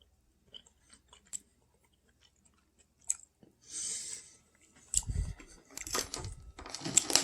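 Sweet tomatoes being chewed: scattered soft clicks at first, then bursts of wet, crunchy chewing and biting, close and fairly quiet.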